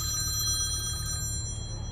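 An old-school telephone ringer sounds continuously throughout, with steady high-pitched bell tones sustained over a constant low background hum, and no talking.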